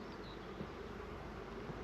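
Honey bees buzz as a steady, dense drone at an opened hive, faint and continuous without pause.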